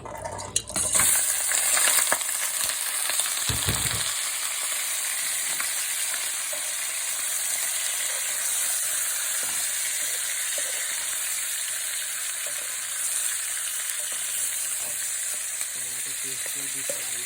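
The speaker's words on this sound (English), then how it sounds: "So now I'm going to just fry this one." Masala fries in a pan for murgh masala with a loud, steady sizzle throughout, a few clanks and stirring scrapes near the start, then continuous close frying.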